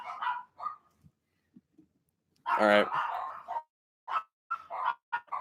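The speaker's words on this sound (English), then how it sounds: "this is the bark apocalypse here" Several dogs bark in a loud, dense burst midway, with scattered yips and a person talking before and after.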